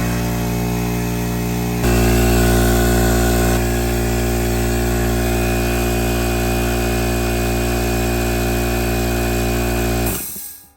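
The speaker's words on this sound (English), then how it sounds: "it goes back over here to the compressor, the air compressor, and we're going to go ahead and turn it on" A Coleman air compressor loud and close, switching on with a jump in its steady motor roar, droning evenly for several seconds, then cutting off and winding down at the end; no voices.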